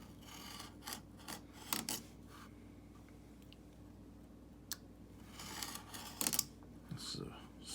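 Hand saw rasping through wood for a muddler, a few short separate strokes at close range, faint and uneven with pauses between bursts.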